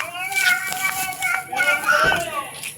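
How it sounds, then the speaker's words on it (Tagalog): Noisy children playing and shouting close by, with high tonal wailing from one crying child rising and falling over the chatter in bursts. "Oh, ang ingay po ng mga bata. Oo, ang iyak po, oh."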